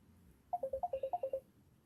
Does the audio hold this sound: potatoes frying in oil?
no